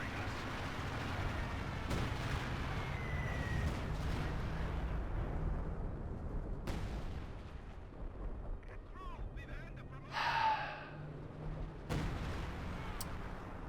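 Bomb strikes in the WWII strategy game Company of Heroes 2 erupt as a rumbling, ongoing wash of explosions and artillery-like booms, with sharper blasts rising from the din now and then.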